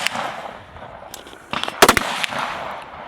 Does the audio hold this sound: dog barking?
no